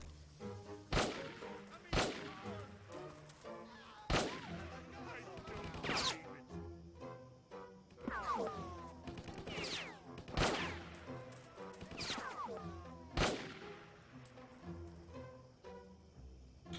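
Sniper rifle fire in the video game Stubbs the Zombie: about eight sharp, loud single shots spaced roughly one to two seconds apart, ringing over a busy game soundtrack with no one speaking.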